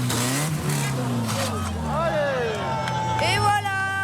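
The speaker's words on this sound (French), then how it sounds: "Les voitures vont de plus en plus vite." Modified cars rev loudly at an unauthorised street rally that is turning into a wild rodeo, engine notes rising and sweeping in pitch as they accelerate and drift, with crowd chatter and voices running underneath.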